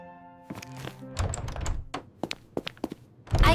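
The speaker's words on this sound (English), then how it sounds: "I open the door." A door opened at close range: a handle rattles, then several soft thunks and knocks, with a louder rush at the end.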